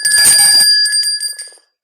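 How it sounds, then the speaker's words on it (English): A small bell rings out loudly and clearly with a bright metallic tone, then its ring fades and dies away within about a second and a half. "you have to ring the bell too because we got 100 likes"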